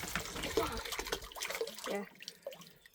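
Water runs from a drinking tap at a pioneer-times museum. The flow is a close, splashy rush with uneven bursts, and it fades toward the end. Background voices murmur faintly underneath.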